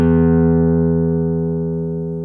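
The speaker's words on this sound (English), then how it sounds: "We're going to do a rest stroke on the big E string." A single pick rest stroke on a guitar's low E string, one loud close note struck once that rings out and slowly decays with no other sound.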